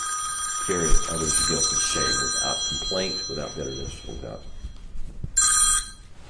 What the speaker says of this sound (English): Sorry about my phone.